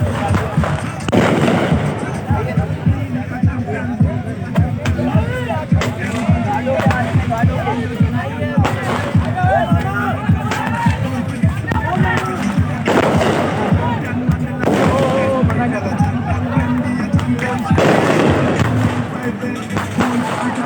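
Fireworks at a tape-ball cricket tournament in Malir, Karachi, crackling and popping in dense, continuous bursts with repeated louder bangs, under a constant crowd din throughout.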